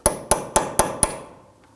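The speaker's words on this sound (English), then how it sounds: "So go ahead and use a punch. And we want to go ahead and undimple that." A metal punch is struck with a hammer five times in an even rhythm against the dimpled axle nut of a 2005-2009 Subaru Legacy during front steering knuckle work, each blow a sharp ringing clank fading as the strikes end.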